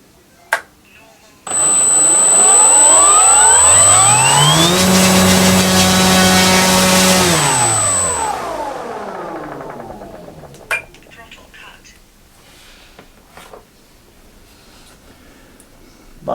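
Electric motor on a Skynetic Bison XT STOL 1750mm RC plane, powered by a 4-cell 5000 mAh battery, spinning an APC 1710 E-prop: a whining hum rises to a steady high-pitched drone for several seconds, then winds down and stops.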